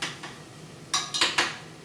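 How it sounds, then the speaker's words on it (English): Bacon and onions being stirred in a sauté pan: a few sharp scraping clinks of a utensil against the pan, close and brief, with a faint sizzle underneath. "And just stir it around and let it saute."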